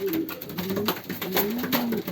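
Young ringed racing pigeons coo close up in a loft during pairing, with repeated rolling coos over a busy, rustling background and no talking.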